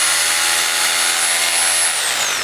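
A Makita HR2470X5 rotary hammer drill runs at full speed with a steady, loud, dense motor whine, close up, winding down slightly at the very end, with no talk.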